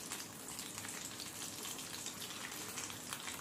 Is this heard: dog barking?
no